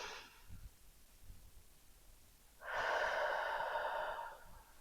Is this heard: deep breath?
yes